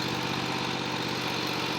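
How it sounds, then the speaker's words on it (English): A riding lawnmower engine runs at a steady idle-like drone, close and continuous, with no voices over it. "now Noah's riding he likes to ride the riding lawnmower"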